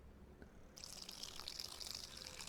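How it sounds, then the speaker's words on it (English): Sour cream pours steadily in Cooking Simulator, a soft wet trickling and splashing that begins abruptly and runs continuously, fairly quiet and alone. "So make sure you pour all of your sour cream in."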